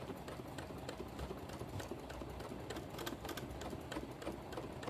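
A sewing machine stitches steadily through fabric during free motion quilting, a dense, fast mechanical rattle running continuously at close range with no talking.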